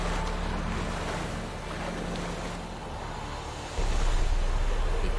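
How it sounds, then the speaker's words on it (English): Broad, steady wash of water and waves from a large, deep body of water in The Witcher 3, with wind noise, swelling louder toward the end. "Big body of water seems pretty deep."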